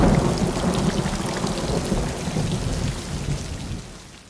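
Heavy rain pours down in a thunderstorm with continuous deep thunder rumbling underneath, loud and dense throughout, easing slightly toward the end; no voices.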